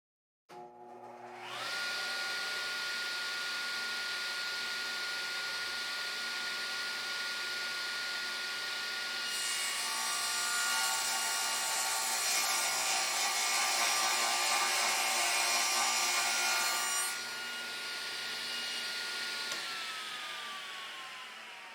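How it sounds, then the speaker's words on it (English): A loud power saw cuts wood for a laptop stand, running steadily for about twenty seconds with a dense whine that brightens and strains mid-cut before easing near the end, with no voices. "plug in the saw"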